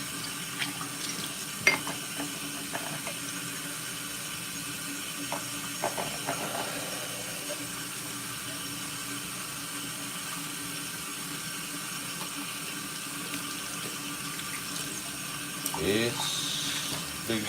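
Hot water pours from a kitchen tap into a sink during washing up, a steady rushing stream throughout with occasional clinks of dishes and a brief louder splash near the end.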